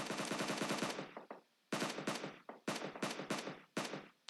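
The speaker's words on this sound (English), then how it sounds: "Trying to shoot through the trees, through the bushes, but doesn't get a shot on him." Automatic gunfire in the battle royale game PUBG Mobile, rapid bursts of sharp shots with short pauses between volleys, loud and close with no talking.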